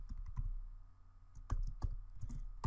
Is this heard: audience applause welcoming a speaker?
no